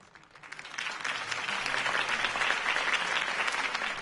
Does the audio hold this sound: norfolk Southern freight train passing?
no